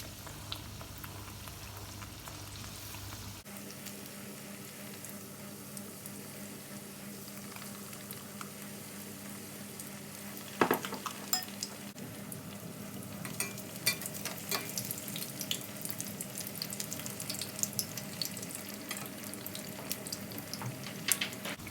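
Brinjal (eggplant) pakora fritters frying in oil give a steady soft sizzle and crackle that grows busier after a sharp clatter midway, with scattered pops continuing throughout.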